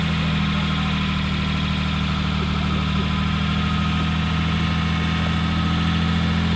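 Car engine idling steadily with a constant low rumble and slight vibration, holding at rest just before being revved, near and loud with no talk.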